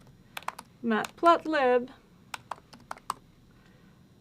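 Computer keyboard typing while writing notes in a code notebook: sharp separate key clicks come before and after a short stretch of talking, close and clear, in an uneven rhythm.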